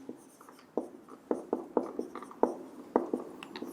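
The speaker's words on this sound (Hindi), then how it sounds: "चलो मैं सीधे लिख देता हूं" Chalk or marker tapping and scratching on a board as a teacher writes out a vector cross product, a series of sharp irregular taps and short strokes, close and clear with no talking.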